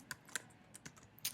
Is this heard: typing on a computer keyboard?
yes